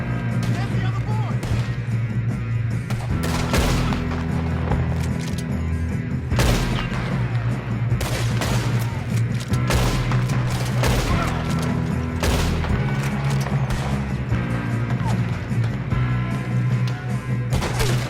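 Rapid gunfire in a Red Dead Redemption 2 shootout, dense, loud bursts of shots cracking over driving music, with characters shouting amid the fight.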